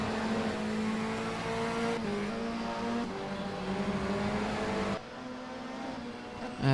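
Race car engine at a Warwick Motorsport Club race, a loud sustained drone shifting pitch up and down as the driver works the throttle, with a sudden change in tone near the end.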